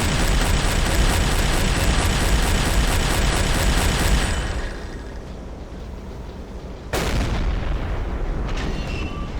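Heavy U-boat deck gun fire in Silent Hunter 3, a dense roaring barrage that fills the first four seconds, then drops to a lower rumble before one sharp loud blast near the seventh second, with sustained battle noise after.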